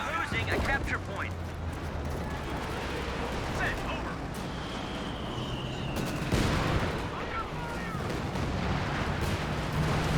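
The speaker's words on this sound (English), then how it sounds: "The other one also taking Katyusha fire." Katyusha rocket artillery pounds positions in the WWII strategy game Company of Heroes 2, a dense barrage of rumbling blasts and crackling impacts layered under continuous battle noise, with a rocket-like whoosh partway through.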